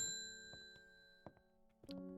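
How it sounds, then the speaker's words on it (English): A bell in the video game Strange Horticulture rings with a bright ding, then a few short metallic strikes follow before a final louder chime, all over a steady sustained musical tone with no speech. "I guess we're going to ring the bell then."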